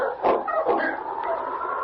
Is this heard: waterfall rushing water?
no